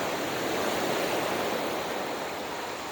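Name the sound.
ocean waves breaking on a beach in El Salvador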